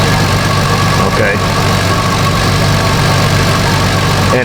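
A 2005 Chevrolet Equinox with the 3.4 engine idles while running rich, producing a loud, steady low rumble up close that holds evenly throughout.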